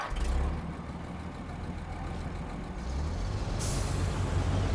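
A White Western Star 4964 truck in SnowRunner starts up with a hiss of air brakes, then settles into a steady low diesel rumble, loud and close, with no talking.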